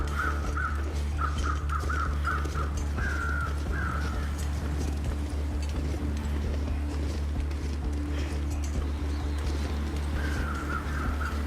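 Crows in the snowy wilderness of the survival game The Long Dark give short bursts of caws, several in a row, then again later, over a low steady wind rumble.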